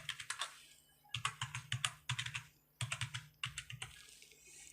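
Quick bursts of clicky keystrokes on a computer keyboard as an Aadhaar card number is entered, in clusters separated by short pauses, close and fairly quiet, no speech.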